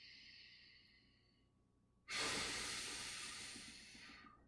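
Slow, steady breathing during a mobility stretch: a long, soft breath in followed by a louder, drawn-out exhale, close and alone.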